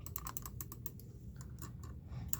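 Rapid, close clicking of keys typed on an old laptop keyboard in a bedroom game setup, an uneven burst of keystrokes with a short pause midway and no talk.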